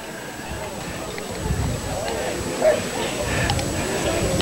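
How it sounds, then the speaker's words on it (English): Dogs, both little and big, welcoming their owners home after a 10K race in Cranbrook. Scattered yips and barks come from mid-distance through crowd noise and ongoing talk. "The dogs are here."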